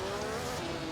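Lancia Formula 1 car from a 1955 season race in Assetto Corsa spinning against a barrier at Belgium, a steady loud engine drone with tyre scrubbing, brief and continuous.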